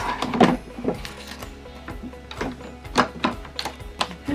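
An embroidery machine stitches a fabric sensory toy with a quick, uneven mechanical whirring and repeated clicking pulses, close and moderately loud with no talking.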